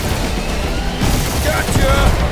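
Spaceship dogfight gunfire in Marvel's Guardians of the Galaxy game: dense, loud rapid blasts and booming impacts pile up in a continuous barrage, with voices talking over the din.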